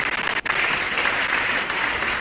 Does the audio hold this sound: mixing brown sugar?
no